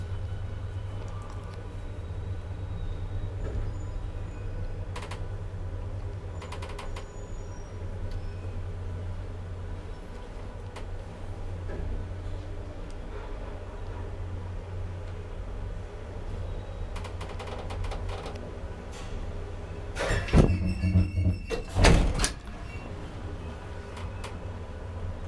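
An old ValmetSchlieren traction elevator in a Kaarina apartment building runs with a steady low hum and rumble, broken by faint clicks and a louder burst of door and mechanism clatter near the end.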